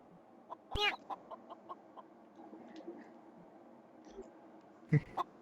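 Chicken clucking inside a video game, a run of short soft clucks with a couple of louder squawking bursts near the start and end, heard faintly over a low background.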